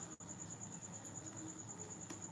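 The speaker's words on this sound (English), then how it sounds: "today we have a real life cricket in the background" A real cricket chirps steadily in the background with a thin, high, continuous trill, faint but constant over quiet room noise.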